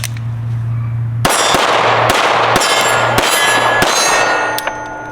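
Pistol fire from a SIG 226 clone at an outdoor range: a loud, sharp metallic report followed by several more rapid shots at uneven intervals, each ringing with a clanging tail, close to the listener.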